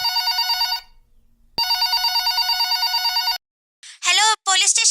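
A landline telephone bell rings loudly in two long bursts with a brief pause between, before a call to a police station; a voice starts talking just after the ringing stops.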